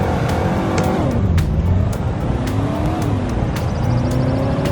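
A 5.7-litre V8 SUV with a four-speed automatic in the Greenville video game drones steadily at low revs, a continuous engine hum with slight pitch shifts and no talk.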